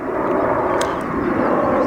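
A fixed-wing airplane passes overhead outdoors near a patch of bluebells, giving a steady, broad engine drone that holds constant throughout at moderate loudness, with no talking.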